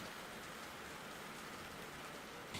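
Steady, dense rain pours down in a TV series scene as an outdoor workout takes place, a constant even hiss with no voices and no let-up.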